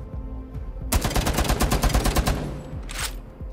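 Rapid automatic gunfire on the shooting range in Rainbow Six Siege, a loud dense burst of shots lasting about a second and a half, followed by a short separate volley, with no talking.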